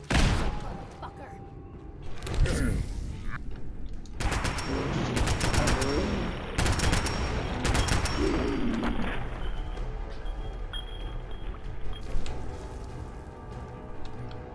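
Bursts of gunfire in Fallout 4 survival mode: several sharp cracks and rapid volleys over a noisy game soundscape, with a person talking in places.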